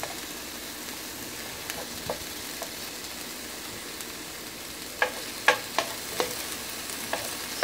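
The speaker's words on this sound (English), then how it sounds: "But let me flip this meat." Pork cooks in a pan without oil on high heat, giving a low, even sizzle with scattered clicks and scrapes as the meat is stirred and flipped.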